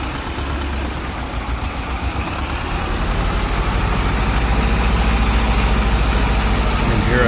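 An Ursus tractor in Farming Simulator 22, on an old Polish farm, runs with a loud, steady engine drone that holds a constant low rumble for the whole stretch.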